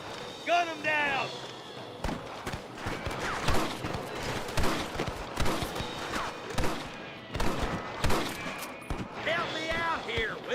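Gunfire in a shootout with rustlers in Red Dead Redemption: dense, rapid shots crack in steady bursts for the whole stretch, loud and close, with shouted voices breaking in at the start and end.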